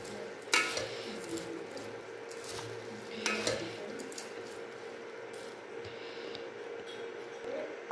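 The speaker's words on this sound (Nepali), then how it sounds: "अब राम्ररी चलाउने चटपटेलाई" Stirring chatpatey, a Wai Wai noodle snack, with a utensil in a bowl: scraping and clinking strokes with a couple of louder knocks, moderately close, no talk.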